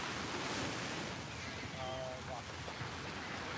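Ocean waves wash steadily onto a beach at sunset, making a constant, broad rushing hiss with wind buffeting the microphone and no clear voices.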